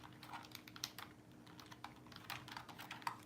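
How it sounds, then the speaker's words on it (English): Quiet, steady typing on a computer keyboard: quick irregular clicks and taps run close by for a few seconds with no talking. "I cannot type and talk at the same times."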